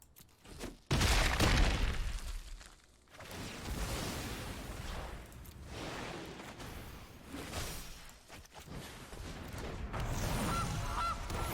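A goose honks in MTG Arena, a digital card game, with loud, layered honking bursts that rise right after a quiet opening and continue through a busy, full-band game soundscape with sharp hits.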